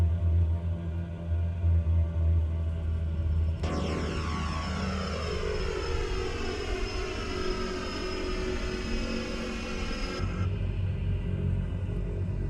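Twin-turboprop Embraer EMB-110 in Microsoft Flight Simulator in Iceland, bound for Keflavik: a steady engine drone rises suddenly into a loud, whining propeller roar that holds for several seconds before cutting back to a low hum.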